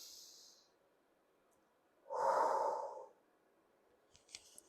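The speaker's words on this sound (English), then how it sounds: "You're gonna start off with 5 deep breaths in from your nose and out through your mouth" Deep nasal inhale followed by a long, slow exhale out through the mouth, one full breath cycle heard close and quiet, framed by faint hissy airflow and a few light clicks at the end.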